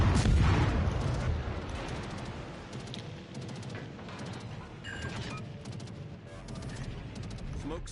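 Naval guns on a destroyer in a naval warship game fire in several separate booms and crackling bursts, moderately loud, over constant battle noise.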